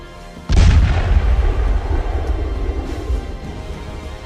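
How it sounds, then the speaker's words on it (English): A single heavy blast from a Krupp 12-centimeter breech-loading cannon booms out loudly, followed by a long rumbling roll of echoing reverberation that slowly fades. "they fired at them with heavy weapons. Kruper 12-centimeter breech-loading cannon."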